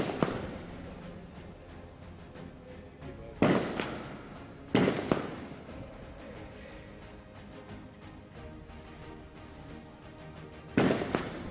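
Sniper rifle shots at the UAE SWAT Challenge 2023, three sharp loud cracks spaced several seconds apart, each with a brief echoing tail over steady outdoor crowd and ambient noise.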